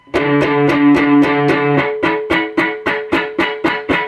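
Distorted electric guitar hammering the 10th fret of the low E string with the other strings muted, a steady run of loud, evenly spaced chugging notes that ring sustained at first, then turn short and choppy with sharp attacks.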